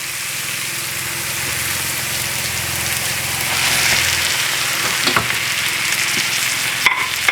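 Meat sizzles and spits in a hot pan, a dense continuous frying hiss with stirring scrapes and a few sharp clicks near the end, no talking over it.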